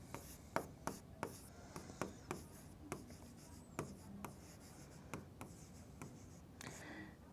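Chalk or marker strokes on a classroom board during a maths lesson on triangles, a series of short dry taps and scratches about every half second, soft and fairly close, with no talking.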